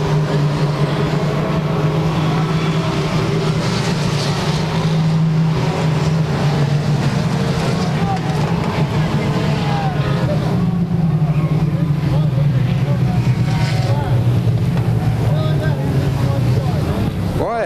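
Mini stock race cars roar around Claremont Speedway in Tri-State Megabucks Mini Stock racing, a steady dense engine drone with wind buffeting, continuous and loud, while a track announcer talks over it.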